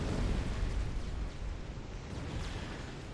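Bombs dropped by bombers exploding in the strategy game Supreme Commander, a low rumbling blast that fades over a few seconds, fairly faint and distant.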